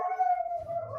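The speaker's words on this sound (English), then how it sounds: "UPS is outside and my dog is barking." A dog reacting to a UPS delivery outside lets out a drawn-out, tonal howl-like bark that holds steady for about a second, fairly clear and close, with no talk over it.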